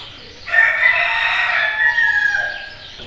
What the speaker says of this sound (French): Il y a le coq.